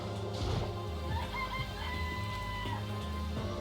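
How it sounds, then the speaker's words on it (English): In the video game Danganronpa, a chicken clucks in short bursts over continuous background music, fairly loud and close. "It's a chicken. It's really alive, right?"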